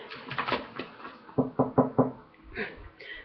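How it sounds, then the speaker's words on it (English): Knuckles rapping on wood: a few soft taps, a pause, then a quick run of four firmer knocks close by, followed by faint rustling. "Knock on wood"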